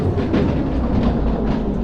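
A train pulls long loaded cargo wagons in the railway game Derail Valley, played in VR, giving a steady, close, low rumbling roll with faint rhythmic clatter.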